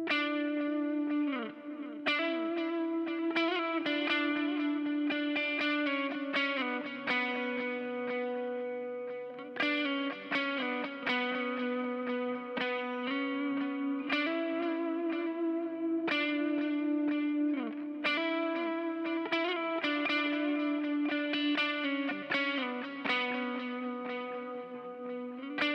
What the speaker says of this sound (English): let's put a high filter on